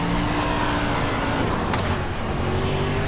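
A dirt stock car engine roars loudly and continuously at high revs on the Eldora dirt oval in iRacing, its pitch dipping briefly as the throttle lifts, then climbing again.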